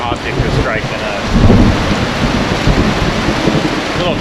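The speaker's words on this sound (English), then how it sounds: "Lightning, thunder, just kind of came out of the blue." Tropical thunderstorm pounding a sailboat at anchor, with steady heavy rain and a swell of rumbling thunder midway, loud and close, with a faint voice briefly underneath.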